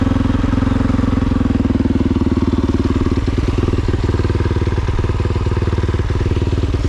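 A hot Kove 450 Rally motorcycle with an FMF exhaust idles steadily in neutral, giving a close, loud, even chugging thump that holds a constant rhythm throughout.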